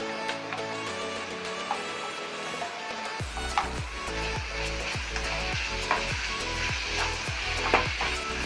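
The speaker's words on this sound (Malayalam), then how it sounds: "രണ്ട് സ്പൂൺ നെയ് വീത്ത അത് നന്നായി വഴറ്റണം" Bananas sautéing in ghee in a pan, a continuous sizzle with regular scraping stirs that grow stronger and more rhythmic after the first few seconds, close up and without speech.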